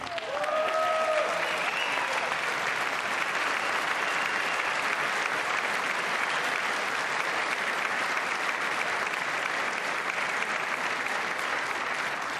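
A packed audience at the State of the Union address breaks into sustained, dense applause that fills the hall evenly and steadily throughout, with a brief voice at the very start.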